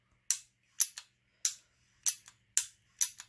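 An FX Impact airgun trigger dry-fires with sharp, crisp metallic snaps, close and clean, heard as paired clicks repeated about four times in a quiet room.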